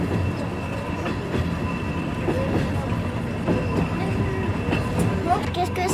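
A train runs along its rails with a steady rumble, rhythmic clickety-clack and occasional brief wheel squeals, heard from aboard and moderately loud throughout.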